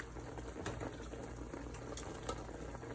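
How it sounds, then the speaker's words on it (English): Gravy boils in a pot on the stove, a soft, steady bubbling and gentle simmering hiss with small irregular pops, faint and close, with no talking. "I'm gonna let it boil"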